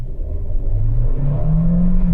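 A 2023 Kia Seltos accelerating in sport mode gives a smooth engine whir that climbs steadily in pitch, close and continuous.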